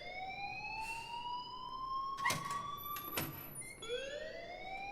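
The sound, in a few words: school alarm ringing in video game Life is Strange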